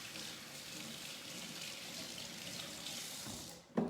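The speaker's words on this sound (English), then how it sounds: "I'm just going to wash my hands." Tap water runs steadily into a sink as hands are washed beneath it, a continuous close hiss and splash throughout, ending in a brief louder clatter.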